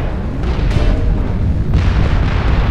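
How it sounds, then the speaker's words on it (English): Heavy barrage of missile explosions in the mech combat game Mechwarrior Online: a continuous, loud, booming roar of overlapping blasts with dense low rumble and a few sharper bursts standing out, no talking. "And you see the barrage of missiles"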